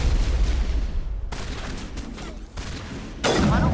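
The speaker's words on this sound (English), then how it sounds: "Welcome to my sniper rifle." Sniper rifle gunfire in Mass Effect, heavy booming shots and blasts amid a dense combat din, loud and close, with a sharp new burst near the end.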